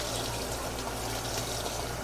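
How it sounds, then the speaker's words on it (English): Continuous rushing water pours steadily from a tap into a tub being filled to wash fresh mustard and turnip greens, a dense, unbroken gush. "I just fill up this tub."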